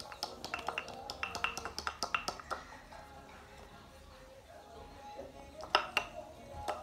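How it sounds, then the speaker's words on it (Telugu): Ingredients pounded after salt is added, a quick run of sharp knocking taps, faint and close, then a pause and a second short burst of strikes, with quiet talk in the background. "సాల్ట్ వేసిన తర్వాత దంచండి."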